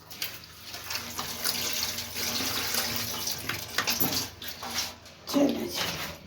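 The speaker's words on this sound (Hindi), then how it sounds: "तो प्याज है, इसको भी अच्छी तरह धो लूँगी।" Onions and tomatoes are rinsed under a running kitchen tap, a close, steady water splash that shifts and sputters as the vegetables are handled, with a brief squeaky sound near the end.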